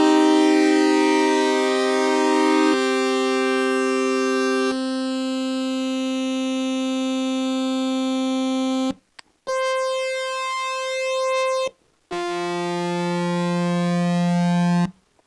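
Korg Minilogue analog synthesizer oscillators holding sustained buzzy tones whose pitch slowly drifts and beats against each other, changing notes a few times with short breaks, loud and alone.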